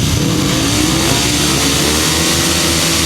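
Four upright solo grasstrack motorcycles rev hard together on the line at the start of a floodlit race, a loud, dense, continuous engine roar with no break.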